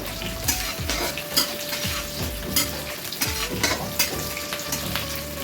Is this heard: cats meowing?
no